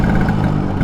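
Engine of a blue 1978 Vespa Super with a 150cc two-stroke motor, running steadily and close by in a short, loud, continuous burst.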